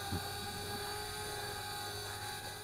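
A Flitt folding portable selfie drone flies nearby, its steady high-pitched rotor whine and buzzing hum holding constant and fairly loud throughout, with no talking.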